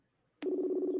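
A telephone is dialed to call a friend: a single steady dial tone starts abruptly after a click, close and clear with no talk.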